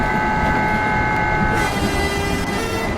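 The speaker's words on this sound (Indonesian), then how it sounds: "Tuh, semuanya klaksonnya sama ya." A steady train horn from the video game Incorails holds loud and continuous, layered over a constant rolling rail rumble with no pauses or voices.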